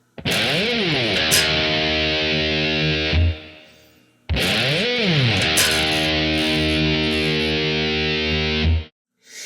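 Distorted electric guitar strikes the low E string and slides far up the neck and back, played twice with long sweeping pitch glides and ringing sustain, loud and alone.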